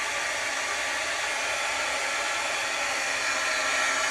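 A heat tool running close by to dry pigment ink during rubber stamping, giving a constant loud blowing hiss with no breaks from start to finish.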